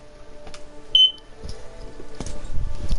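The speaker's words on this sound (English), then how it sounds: "sorry for the beep" A single short electronic beep from the video game Greedfall stands out briefly over a low background hum, with rumbling game sounds building afterward.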